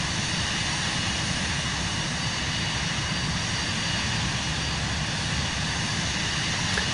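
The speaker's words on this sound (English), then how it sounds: "Yeah, it's a one-engine jet." Single-engine Cirrus Vision jet flown manually in Microsoft Flight Simulator 2024, a steady, loud broadband engine roar with low rumble and a constant whine, unchanging for the whole stretch with no voices.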